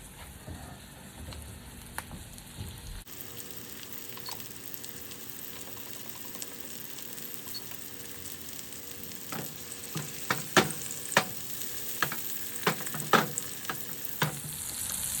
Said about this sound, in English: to that hot oil, I am going to add both of my patties